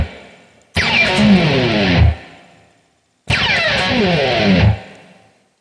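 Two distorted electric guitar slides down the E string, each a loud sustained sweep falling in pitch for over a second, separated by a short pause, with a little D string ringing along.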